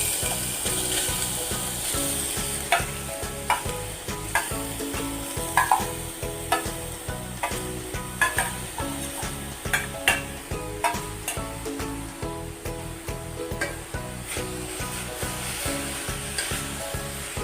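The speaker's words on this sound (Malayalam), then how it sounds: "നെയ്യിലൊന്ന് നല്ലോണം ഒന്ന് നമുക്ക് സോട്ട് ചെയ്തെടുക്കാം" Grated beetroot sautés in ghee with a steady sizzle while a utensil stirs and scrapes the pan in a repeated rhythm, busy and close throughout.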